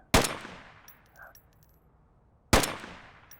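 A Volk Marksman rifle fires semi-auto in a video game: two loud, separate single shots about two and a half seconds apart, each with a short ringing tail.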